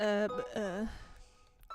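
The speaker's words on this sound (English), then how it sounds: "That's a fucking bell" A bright ding-dong doorbell chime rings out with ringing tonal overtones, the two notes sounding close and clear before they fade into a quiet room.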